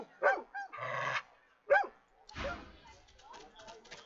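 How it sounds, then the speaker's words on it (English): A dog in Divinity: Original Sin 2 gives a couple of sharp barks and a low growl, close and fairly loud, separated by short pauses, with a rougher snarling burst near the end. "Hackles raised, the dog barks at the sand built up beneath the building."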